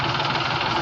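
A tractor loader's engine idles at close range, a steady low diesel rumble with a faint knocking pulse and vibration, with no voices over it.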